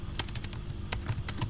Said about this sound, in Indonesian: Saya mau ngetik lagi